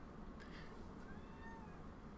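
Pet cat named Mina meows softly a couple of times at a distance, faint high calls barely rising above a steady background of gameplay noise and hiss.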